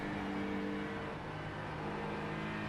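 Race car engine from a racing video game at Monza, a quiet steady drone with a faint whine, the pitch easing slightly as a faster car comes up.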